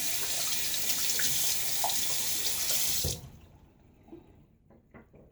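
Tap water runs hard into a sink as a shaving brush is rinsed, a loud steady rush that cuts off after about three seconds, leaving a few drips and faint handling sounds.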